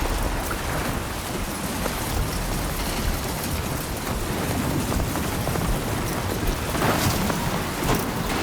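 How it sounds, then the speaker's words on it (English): Steady, heavy rain pours without pause through a storm in the video game Death Stranding 2, with low rumbles of thunder beneath the dense hiss of falling water. "storm's coming through."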